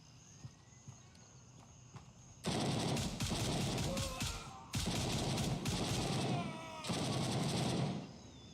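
Bursts of automatic gunfire in the video game Gray Zone Warfare, three loud sustained volleys separated by brief pauses, following a quieter stretch of faint background noise.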